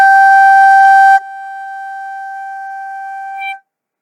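A single sustained flute note G, held clear and steady for a few seconds, breathy at the start then settling into a pure tone before stopping cleanly, played alone with no talking.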